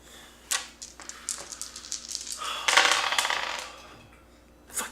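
Dice clatter and tumble across a table during a tabletop role-playing game, a run of sharp clicks and rattles building to a dense burst near the middle before settling, close and fairly quiet with no talking.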